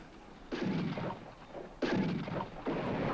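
Gunfire from the 1973 Western film High Plains Drifter, two sharp loud bursts with trailing echo about a second apart, then a third shot beginning at the end.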